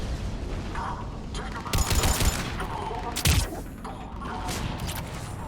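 Mortar fire and gunfire erupt in the Mass Effect 3 Legendary Edition video game, with loud booming blasts and rattling volleys over constant battle noise while voices speak.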